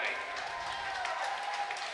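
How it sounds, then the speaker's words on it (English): A crowd applauding at a high school women's swimming and diving meet as a JV race finishes, steady clapping echoing through an indoor natatorium, with a voice over the noise. "this crowd is showing their appreciation"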